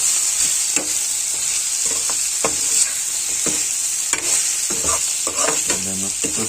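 Food sizzles steadily in a hot pan with green chillies added, while a spoon scrapes and stirs through it in repeated strokes, close and loud over the constant frying hiss.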